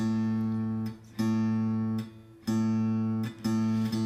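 A guitar repeatedly plucks a sustained A note, slightly below concert pitch, each pluck ringing for about a second before fading and being struck again.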